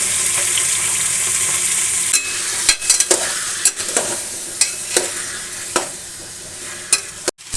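Chopped vegetables frying in oil with cumin for pav bhaji, a steady close sizzle with repeated sharp scrapes and knocks of a spoon stirring the pan, no talking.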